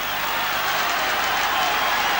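Stadium crowd at a 1981 rugby league match between Parramatta and Manly roars and applauds after a Parramatta try, a dense, sustained wash of cheering and clapping throughout.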